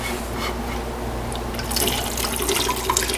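Water poured into a pot of sweet and sour cabbage soup, a splashing, bubbling pour that swells midway and continues steadily, close and fairly loud with no talking.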